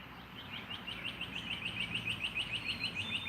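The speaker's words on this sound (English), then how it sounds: "With the birds." Birds chirp outdoors in a quiet garden setting, with a steady run of short, high, repeated tweets pulsing in a regular rhythm and growing slightly louder over faint background hiss.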